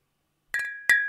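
Glasses clink during a toast: two bright ringing clinks a fraction of a second apart, each leaving a sustained glassy tone in an otherwise quiet moment.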